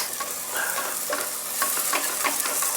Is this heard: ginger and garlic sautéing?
yes